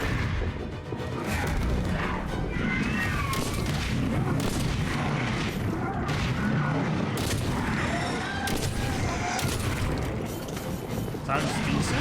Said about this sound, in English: Sounds decent. Sci-fi shotgun, right?